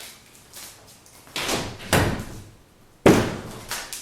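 Double-sided doors swung and moved, giving several thuds and knocking bumps at irregular intervals, the loudest a sharp slam near the end, all close by.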